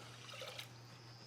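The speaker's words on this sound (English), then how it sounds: "We're gonna add our water." Water trickles and pours softly into a pot of rice on a high stove, a faint, steady liquid stream lasting about a second.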